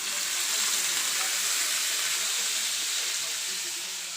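Dried fish (tuyo) sizzles and crackles in a hot oiled pan at home, a steady, dense, bright frying hiss that holds loud and even throughout with no voices.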